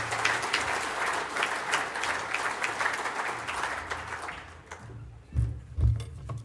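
Audience applause for keynote speaker Stephen Conroy at a defence conference, a steady dense burst of clapping from a seated crowd that fades out near the end, followed by a couple of low thumps, likely handling at the lectern.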